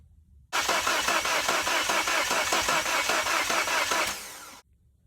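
A Mini Cooper engine cranks without starting, a loud, rhythmic rapid chugging of the starter turning it over for about four seconds before it stops abruptly.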